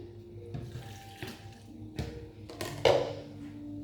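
Hot carrot cooking water being poured out for a carrot bread recipe, a faint splashing trickle broken by a few clunks of a container and utensil, ending in a louder gush.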